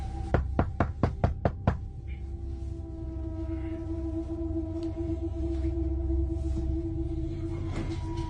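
Heavy pounding on a cabin door: seven loud, rapid knocks in a steady burst, followed by a sustained low hum and tonal drone.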